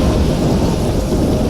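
Thunderstorm in the video game Life Is Strange, a loud, dense rumble of thunder mixed with heavy rain hiss, continuous across the whole moment.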